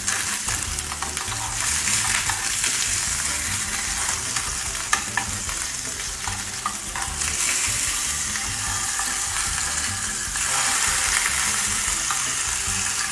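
Fish frying in a REVO bento box keeps up a continuous loud sizzle, with scraping and shifting from a silicone spatula as the fish is flipped, no talking.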